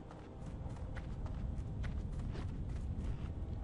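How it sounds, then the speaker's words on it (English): A game avatar runs through a festive virtual town, its footsteps forming a steady, fairly loud patter of quick regular strides that continues throughout over a soft ambient background. "If you listen, you can hear the footsteps as I run."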